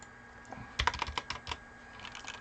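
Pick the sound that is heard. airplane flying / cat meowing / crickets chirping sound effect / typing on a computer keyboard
typing on a computer keyboard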